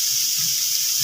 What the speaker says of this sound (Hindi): चलिए प्याज को हम अच्छे से भून लेते हैं।